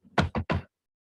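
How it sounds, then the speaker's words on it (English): Three firm knocks on a house door, close and evenly spaced, then silence. "She knocked on the door."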